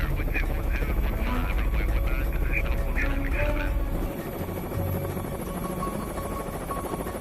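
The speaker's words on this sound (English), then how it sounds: "One helo heads straight for the landing pads." Marine One, the white-topped presidential helicopter, approaches the landing pads with a steady loud rotor drone and buzz throughout, a narrator speaking over it.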